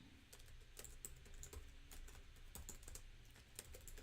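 Quiet typing on a computer keyboard in irregular bursts of light, close key clicks with small pauses between them, no talking.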